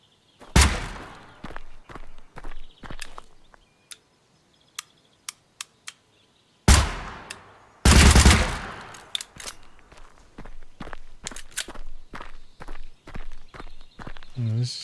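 Bursts of Uzi submachine-gun fire in GunSmith Simulator, sharp loud broadband volleys at the start and again around the middle, separated by single clicks and quieter taps, with a dense stretch of rapid shots near the end.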